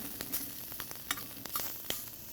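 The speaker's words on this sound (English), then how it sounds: "You get in that really hot pan, you get a nice sear on the shrimp" Cajun-spiced shrimp searing in a very hot pan: a steady hiss of sizzling oil broken by sharp pops and spatters, close and continuous, with no voices.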